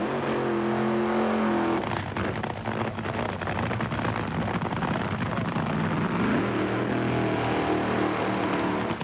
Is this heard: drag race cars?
yes